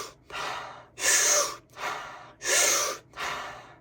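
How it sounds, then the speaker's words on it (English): A person takes deep diaphragmatic breaths, alternating big, audible inhales and long exhales in a slow, steady rhythm, close and clear with no talking. "we're just going to do a deep diaphragmatic breath. So just 1 big inhale"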